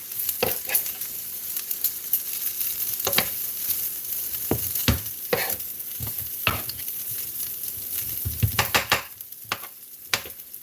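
Rice being stirred into a seasoned pan left from grilled salmon, with a constant sizzle under repeated scraping and clacking strokes of the utensil against the pan, close and loud.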